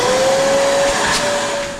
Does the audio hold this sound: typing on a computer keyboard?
no